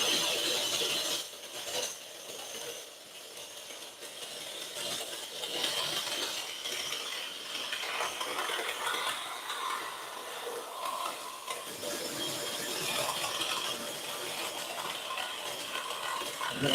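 A scroll saw cuts a slot into a wooden Christmas tree decoration, giving a fast, steady buzzing rasp with a brief pause near the middle before the cutting resumes.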